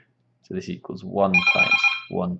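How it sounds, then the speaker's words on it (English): A telephone rings with a sustained bell tone, partly overlapping someone speaking while he works through a maths example, the ring cutting in briefly amid his talk. "sorry about the phone call interruption"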